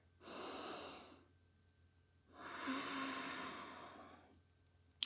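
Two long, slow breaths during a yoga flow, a full airy inhale followed by a deep exhale, close and soft with a pause between, no talking.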